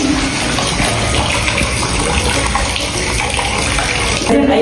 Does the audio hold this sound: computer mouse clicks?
no